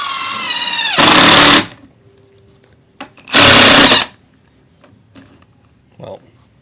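A Milwaukee drill drives a T20 bolt using an undersized T15 bit, two loud close bursts of whirring motor under a second each, separated by quiet pauses with small clicks and handling noise.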